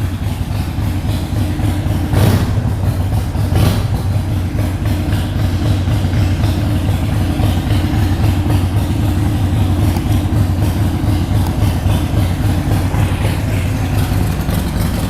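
A custom Harley-Davidson Forty-Eight flat tracker idles steadily, its engine throbbing in a loud, dense, continuous rumble heard from a few steps away, with no voices.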